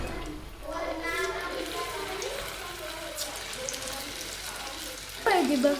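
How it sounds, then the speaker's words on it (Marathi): Pieces of food dropped into very hot oil fry with a steady crackling hiss that runs the whole time, then a louder burst of sizzle near the end as more go in. "तेल चांगलं कडक तापले आणि तेलामध्ये ते मी जेवढे पीस बसतील तेवढे मी त्याच्यामध्ये टाकणार आहे"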